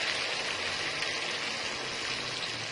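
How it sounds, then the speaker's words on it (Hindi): A glass of water poured into a pan of softened tomato curry for potato katlian, giving a steady, close, continuous hissing splash that holds evenly from start to end. "तो अब हम इसके अंदर 1 गिलास पानी ऐड कर देंगे।"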